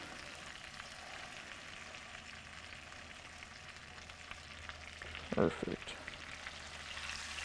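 Steak fries in a tilted pan of foamy butter, giving a steady close sizzle with a brief burst of crackling near the end while a person briefly speaks.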